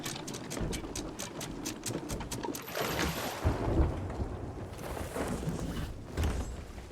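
Stormy sea in the pirate game Sea of Thieves, with a steady roar of wind, rain and churning water around a sailing ship. Loud sustained wash with some sharp knocks and creaks early on, and no voices.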